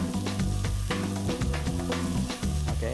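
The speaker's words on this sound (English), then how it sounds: "and then I'm going to fry this for a while" Garlic and chopped onions fry in a pan with a steady, close sizzle and occasional stirring scrapes, no voices.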